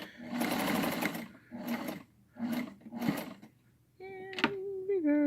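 American Home sewing machine stitching across fabric in short loud bursts, four separate runs of whirring motor with pauses between, followed by a lower steady hum and faint clicks.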